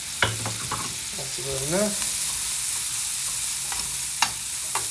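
Garlic fries with onions in a pan, a continuous close hiss of sizzling oil with occasional utensil clicks, while someone speaks briefly over it.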